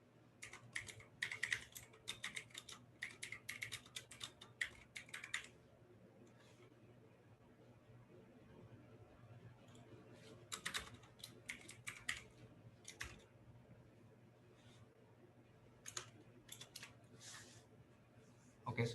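Computer keyboard keys clatter in quick bursts while a short code comment is typed, the taps close and light, with pauses between runs and faint voices in the background.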